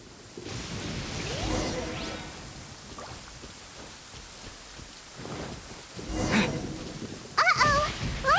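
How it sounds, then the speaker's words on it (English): Rain and rolling thunder of a lightning storm in the Genshin Impact game world, a steady wash of rainfall with deep rumbles swelling near the middle and end, ending in a sharp crackling strike. "Uh-oh! Lightning storm!"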